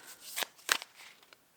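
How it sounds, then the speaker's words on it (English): Tarot cards are shuffled in a few quick, crisp riffling bursts, close and fairly quiet, with soft papery slaps between them. "as I'm shuffling your last cards here"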